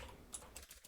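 Quick, faint clicks of a computer keyboard as C code is typed, a short burst of close keystrokes with no voice.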